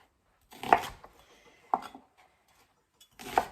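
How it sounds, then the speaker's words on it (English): A knife roughly slices through an onion on a cutting board. Three separate, crisp chops land close by and are spaced about a second apart, with quiet gaps between them. "rough slice up some onion, just like that."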